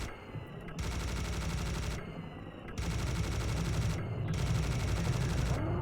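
A hitscan weapon firing in the video game Serious Sam, in loud sustained bursts of rapid automatic shots broken by short pauses, with a dense mechanical rattle through each burst.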